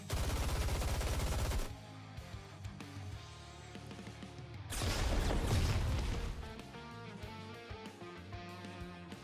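Rapid bursts of video game gunfire from the NIKKE characters opening fire, two loud dense volleys of automatic shots separated by quieter game sounds and music.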